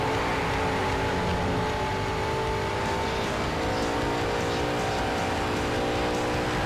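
Race car engine roaring steadily in Need for Speed: Shift as it brakes into a corner, loud and continuous with a sustained tonal whine and no talking.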